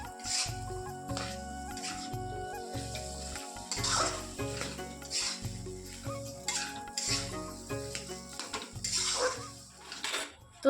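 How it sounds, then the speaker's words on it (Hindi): A spoon stirs and scrapes chokha, a mashed vegetable dish, as it fries in a pan with spices. Repeated metallic clanks and scrapes ring over a soft sizzle, with no talking. "अब इसमें चोखा डाल के इसको भून लेते हैं।"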